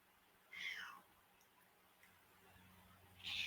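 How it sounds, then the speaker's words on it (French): A hungry cat meows indoors, giving two short, high meows about three seconds apart, faint and slightly distant over a quiet room hum. "j'ai un des chats qui a osé rentrer pour vous réclamer sa pitance"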